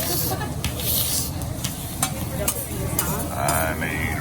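Shrimp and other food sizzle and hiss on a hibachi grill at a Japanese steakhouse, a steady close frying crackle with scraping spatula strokes and intermittent bursts.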